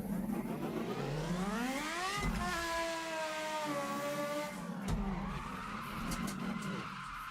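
A car drifts around a corner in low-RPM second gear, its engine revving up and holding a strained tone while the tyres skid loudly and continuously, the engine note dropping sharply partway through before picking up again.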